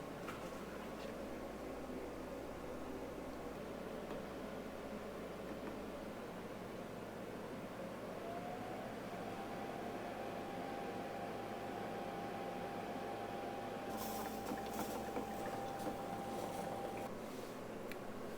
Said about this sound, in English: So let's brew a pot of coffee.